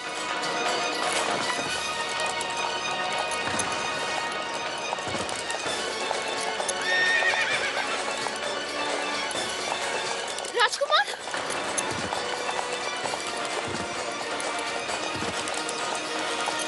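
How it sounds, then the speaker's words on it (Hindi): Rapid hoofbeats of a horse galloping while pulling a chariot, steady clip-clop under a dense music score, with a brief crash of sound near the middle and a whinny-like swell. "ये घोड़ा रुक ही नहीं रहा।"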